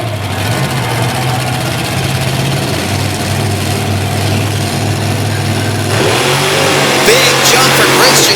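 A monster truck's engine roars hard as it launches off the starting line at a Little Valley, New York event, with a loud, sustained revving growl that surges and brightens near the end.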